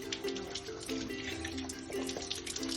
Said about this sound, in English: Then I'll wash my hands.